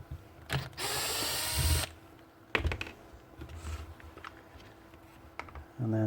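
Mechanical whirring and ratcheting as a screw is backed out of a Makita TPX02 / DPT353 23-gauge pin gun under repair for jamming, with a long loud burst followed by shorter clicks and handling noises, no talking.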